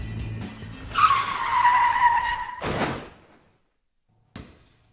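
A car skids with a loud, sustained tire squeal as it pulls out onto an open road. A sharp slam-like impact follows, then near silence and one short final thud.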